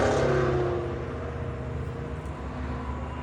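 The motorized slide room of a 2017 Crossroads Z-1 328SB bunkhouse travel trailer runs outward with a steady, continuous mechanical whir and hum at close range and no speech.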